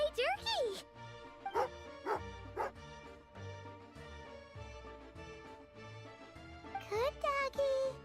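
A dog in the video game Genshin Impact barks and yips in several short bursts, loudest near the start and end, over steady in-game music.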